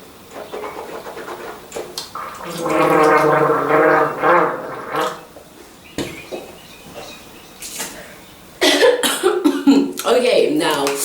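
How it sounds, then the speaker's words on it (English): Someone gargling Listerine mouthwash, a loud bubbling throat gargle in two bursts separated by a short pause, with coughing and throat clearing around them and a voice speaking in between. "if you're not a pro at gargling, I don't advise that"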